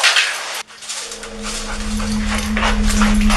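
A spooked police dog whimpers with a steady, high nasal whine that holds for a couple of seconds after a brief pause, close by over a noisy background.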